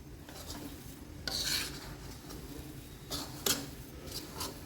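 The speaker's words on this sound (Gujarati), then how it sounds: "હવે લોટ શેકાય છે." Urad dal flour roasting in a pan for adadiya pak, with a steady scraping, rasping stir against the metal and a few louder, brisker strokes, close and alone.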